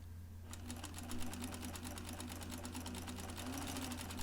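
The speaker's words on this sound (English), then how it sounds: "I'm sewing across the very top of the pocket" A sewing machine stitches across the top of an A-line skirt pocket, starting after a short pause with a steady, fast, even needle clatter over a low motor hum, close and continuous.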